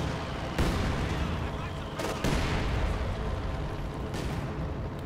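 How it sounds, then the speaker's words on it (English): Pak 40 field gun and Sturmpanzer firing in Company of Heroes 2, heavy booming shots landing at about 0.6, 2.2 and 4.2 seconds over a dense, continuous battle din, with a voice talking underneath. "Pack 40 field gun firing, Sturmpanzer opening up as well there"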